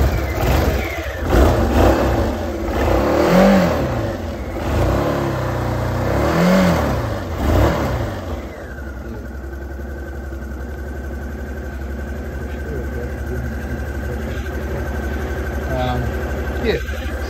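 A 2009 Honda DN-01 motorcycle starts and revs up in a few rising bursts under talk, then drops to a steady, even idle that holds close by.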